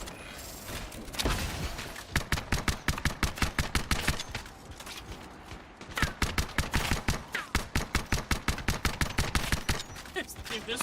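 Pistol fire in the video game Anthem: two long bursts of rapid, evenly spaced shots, loud and close, separated by a brief lull, over a steady background of game noise.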